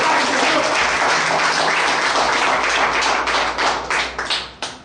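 Sustained audience applause at a political speech in Ilia, Greece, loud and dense throughout, thinning into scattered individual claps near the end.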